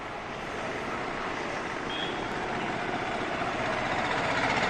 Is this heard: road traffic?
yes